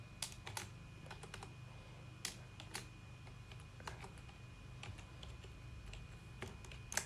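Keys clatter on a computer keyboard as HTML code is typed, quiet irregular clicks in short bursts over a low steady hum.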